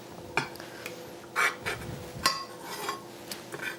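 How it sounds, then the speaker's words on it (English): Tomato sauce spread across the bottom of a baking dish for lasagna, with a utensil scraping and tapping against the dish in irregular clinks and scrapes at close range. "I just take some of the sauce and I spread it on the bottom of the dish"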